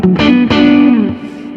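Electric guitar harmonics played through light distortion, two or three bright ringing chimes struck in quick succession, each sustaining with a shimmering overtone stack and slowly decaying.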